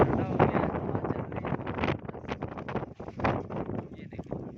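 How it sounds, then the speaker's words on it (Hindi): A strong windstorm buffets the microphone at a railway station, with gusty roaring bursts throughout while someone talks excitedly over the noise. "ओए होए, बहुत ज़बरदस्त आंधी आ गई।"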